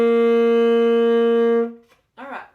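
An alto saxophone holds the note G, fingered with three fingers down: one loud, steady, bright tone lasting under two seconds that then tapers off, followed by a short burst of voice.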